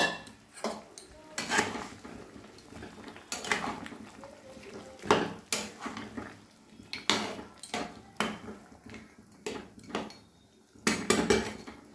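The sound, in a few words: cooking chicken in a pot, utensils clattering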